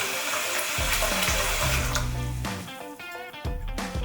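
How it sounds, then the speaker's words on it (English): Tap water runs and splashes through a PC liquid-cooling part being flushed, a close, uneven gurgling rush with shifting tone and brief interruptions. "I normally just come run some water, kind of flush it out."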